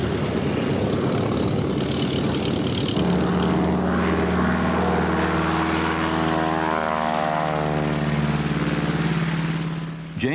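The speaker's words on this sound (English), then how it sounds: "a Pratt & Whitney air-cooled radial engine. It is powering a de Havilland Beaver" Pratt & Whitney air-cooled radial engine driving the propeller of a de Havilland Beaver high-wing monoplane, a loud steady droning hum that deepens and shifts in pitch, heard alone without talk.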